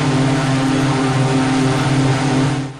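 A Canadair water bomber's propellers run at full throttle in Flight Simulator IX near Vias, France, giving a loud, steady, droning hum with strong low tones that fades slightly at the very end.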